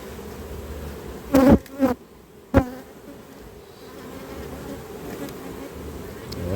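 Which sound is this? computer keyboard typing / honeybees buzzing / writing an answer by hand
honeybees buzzing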